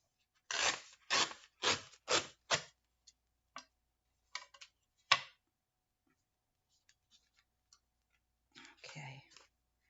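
Paper being torn by hand for a junk journal collage: a quick run of five or six sharp ripping bursts close up, then scattered small tears and a longer rustling rip near the end, with no talking.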